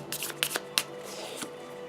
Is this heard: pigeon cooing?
no